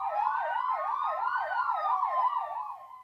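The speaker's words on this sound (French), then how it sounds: "pompiers et ambulanciers font résonner leurs sirènes" Fire engine and ambulance sirens wail together in Jumet, Belgium, with several overlapping tones rising and falling steadily and loudly throughout, with no talking.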